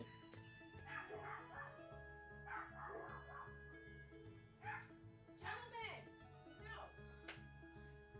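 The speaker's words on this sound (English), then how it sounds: "I've got dogs yelling at things in the backyard" Dogs in a backyard bark, yip and whimper in repeated short bursts, fairly faint and somewhat distant, under a steady low hum with people talking.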